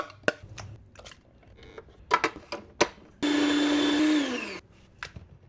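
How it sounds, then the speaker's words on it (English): A food processor blending prawns runs in one loud, steady whir of about a second and a half, with clattering and scraping kitchen sounds before and after. "I'm going to blend my prawns. If you have a food processor, that's great"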